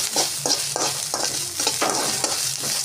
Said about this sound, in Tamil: மஞ்சத்தூள் போட்டதுக்கப்புறமா நல்லா கிளறி விட்டுக்கோங்க